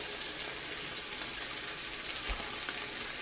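A single thick strip of bacon sizzles steadily on a stovetop burner alongside eggs, a constant dense crackle and hiss close by with no talking.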